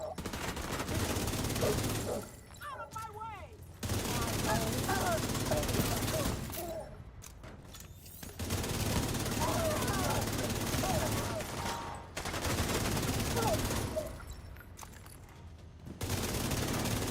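Gunfire in The Division 2 shooting at an incinerator turret's weak points: repeated loud bursts of automatic fire, several seconds each, separated by short pauses, with a voice talking between them.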